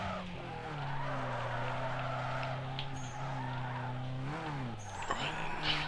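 A street car in Need for Speed Underground 2 drifts through corners, tires squealing in a long steady howl that bends in pitch, backed by a loud engine drone, with a quiet voice now and then.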